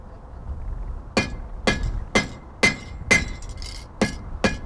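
A blacksmith strikes hot metal with a hammer in seven sharp, ringing blows at an uneven, roughly half-second pace, close and loud during a demonstration at the El Paso Museum of History.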